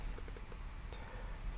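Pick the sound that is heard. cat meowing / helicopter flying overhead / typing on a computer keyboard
typing on a computer keyboard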